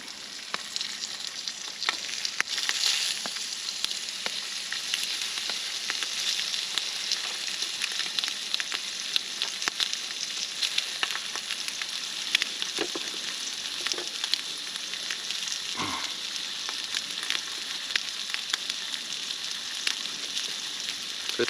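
An egg and peppers fry in olive oil in a skillet at an outdoor bushcraft lean-to in Alabama, producing a continuous close sizzle dotted with crackles and small pops, plus a brief scrape partway through.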